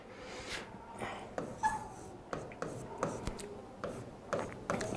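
A teacher writes a long math question on a board with rhythmic scratching strokes and taps, moderately close and fairly quiet, in a classroom-style setting without speech.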